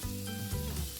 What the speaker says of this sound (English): After a minute, add the onions. Stir everything properly.